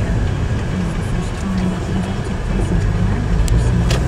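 Steady road traffic rumbles around a vehicle driving in Thailand, a continuous engine and tire drone with a few brief sharper noises near the end.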